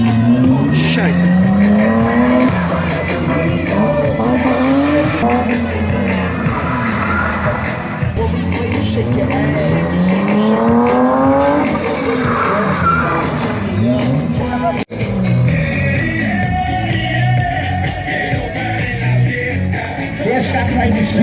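A monster truck at an outdoor show in Weil am Rhein revs its engine hard again and again in rising and falling roars, with tires squealing and a crowd audible; someone talks excitedly over it.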